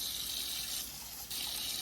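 Warm bath water runs steadily from a tap for a silicone baby doll's bath, a continuous close hiss and splash with no talking.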